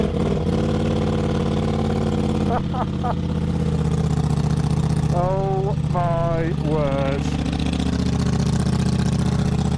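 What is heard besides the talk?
Ducati V4 Diavel motorcycle with Akrapovic exhaust starting and idling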